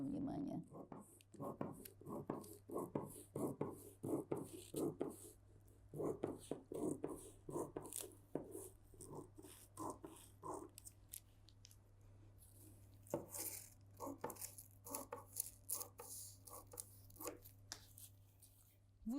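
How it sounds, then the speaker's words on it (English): Scissors snip through light coat fabric in a quiet room, giving repeated soft crunching cuts in irregular bursts with brief pauses between them, close up and faint. "I cut the front piece."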